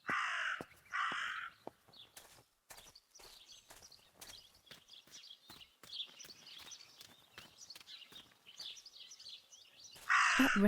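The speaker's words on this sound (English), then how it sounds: "That raven is making a big fuss." A raven in the game Martha is Dead caws loudly several times, with harsh repeated calls at the start and end and quieter footsteps and rustling in between.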